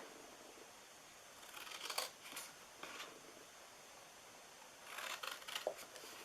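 Scissors snipping the corners off a paper treat box, a few crisp cuts in separate bursts, close and quiet against a faint background hiss.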